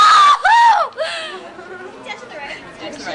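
A performed full-blooded scream, loud and sustained with wavering pitch, breaking into two or three rising-and-falling shrieks within the first second before trailing off into quieter background chatter.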